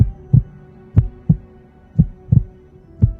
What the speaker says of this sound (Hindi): सोंग द्यू का दिल जोर जोर से धड़कने लगता है